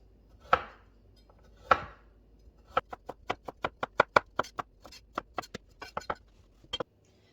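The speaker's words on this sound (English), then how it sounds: "Now that all the carrots are peeled, we will chop them into bite-sized pieces." Knife chopping peeled carrots into bite-sized pieces on a board, two separate heavy strokes followed by a quick, steady run of sharp close taps, with no talk.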